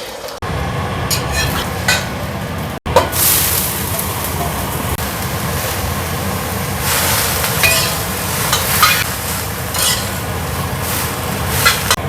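An egg fries in a hot pan with a loud, continuous sizzle and crackle, broken by a brief clatter of a utensil and bursts of brighter spitting later on.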